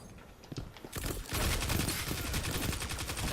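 Rapid gunfire from a pistol in the video game Destiny 2, loud dense bursts of shots starting about a second in and continuing steadily to the end with no talk.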